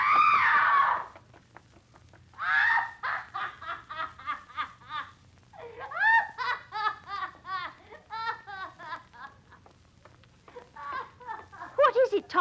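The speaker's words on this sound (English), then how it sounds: "She screamed." A woman's shrill scream in a Jack the Ripper crime radio drama, a loud burst at the start followed by agitated voices, gasps and further cries.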